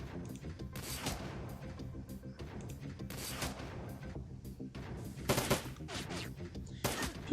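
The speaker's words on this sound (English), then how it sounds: "I'm gonna stand in the doorway and fire at the auto turret" Rapid gunfire aimed at an auto turret in Shadowrun: Dragonfall, with dense overlapping shots and sharper bursts near the end, set over steady game background sound.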